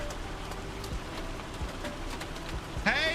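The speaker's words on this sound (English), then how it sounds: "the trouble with rain and hail and bits like that is it makes everything wet" Rain falling in the farming game Farming Simulator 25, a steady soft patter of drops on surfaces with faint scattered ticks, continuous and fairly quiet, ending with a brief bird-like chirp.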